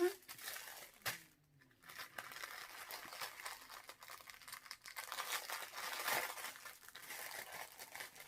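A plastic bookmark packet from a diamond-painting kit is crinkled and torn open up close, a steady stream of rustling and crackling across several seconds with a brief pause near the start.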